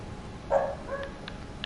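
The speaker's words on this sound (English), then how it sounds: "Doggy." A dog in the game Dauntless gives a short, faint bark followed by a couple of softer yips over quiet game ambience.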